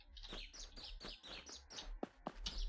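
Several birds chirp and tweet in repeated quick bursts as part of video game ambience on a grassy landscape, faint and steady with a low background hum and no talking.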